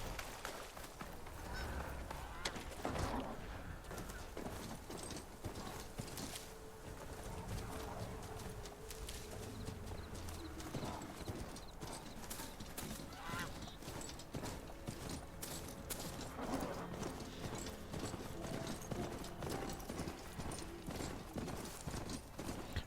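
A riding mount's hooves clop steadily across rough ground in Horizon Forbidden West, a continuous rhythmic trot mixed with honking goose calls and mechanical clatter, no talking.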